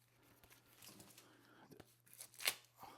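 Tape being torn and paper packaging crinkled open to free an eye massage device's instruction manual, with soft rustling that builds to a sharp rip near the end, close to the ear, under quiet talk.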